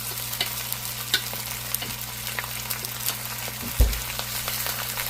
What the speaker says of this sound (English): now we're going to brown them on both sides here